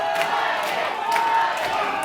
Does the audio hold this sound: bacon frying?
no